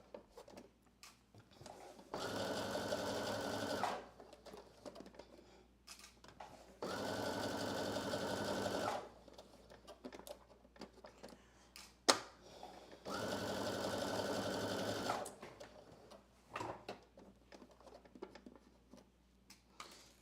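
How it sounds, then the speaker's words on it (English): A sewing machine runs three separate bursts of a couple of seconds each along a dress seam, humming steadily and close, with quiet handling noises in the gaps between runs. "I'm gonna change my sewing machine to a 5, which is the longest length on my sewing machine"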